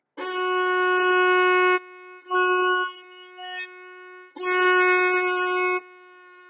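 Violin F sharp played with first and middle fingers pressed on the D string: a long bowed note, a shorter softer stroke and a faint touch, then another long bowed note, all alone and clear.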